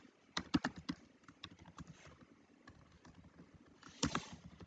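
Someone types a Java program on a computer keyboard in a quiet room, with soft, close keystrokes falling in irregular clusters and a quicker flurry near the end.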